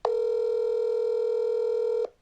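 A single steady telephone tone sounds before a call is placed, clear and close, beginning abruptly and holding unbroken for about two seconds before cutting off.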